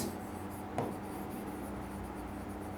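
Pen strokes scratch steadily on paper, soft and close, with one small tap partway through over a faint background hiss.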